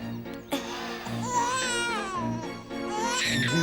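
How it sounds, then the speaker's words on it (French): An infant cries and wails in close, rising and falling sobs that continue in several bursts, with a faint background bed of music beneath. "Vous avez un bébé? Vous l'avez entendu crier, non?"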